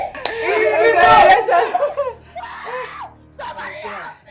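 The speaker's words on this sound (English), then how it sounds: "This scream is not ordinary" A woman lets out an anguished, wailing scream, loud and close, then breaks into shorter sobbing cries, with faint background music beneath.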